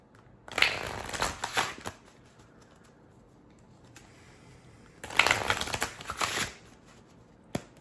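Tarot cards being shuffled in two separate bursts of rapid riffling and flicking, close and crisp, each lasting about a second and a half, with a quiet pause between and a faint tap near the end; no talking.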